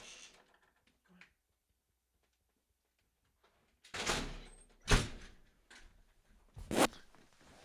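A window is opened to let a cat named Tabco in from a snowy, cold outside: after quiet, a few loud sliding thumps and a bang sound close by, spaced about a second apart, with no talking.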